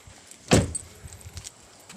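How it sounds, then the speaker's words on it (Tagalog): Car keys jangle in a quick rattling burst as they are picked up near a parked vehicle, followed by a few faint clinks and handling noises, with no voices. "Kunin ko lang yung susi."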